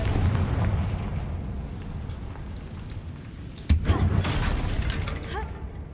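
In the Hogwarts Legacy video game, a Confringo fire spell goes off as a sudden booming blast partway through. It lands over a rumbling game soundscape with small chimes and whooshes.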